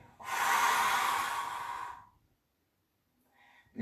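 A long, forceful exhale through the mouth during a breathing exercise for elderly people with limited mobility, a close breathy whoosh lasting nearly two seconds and trailing off into silence, followed by a faint intake.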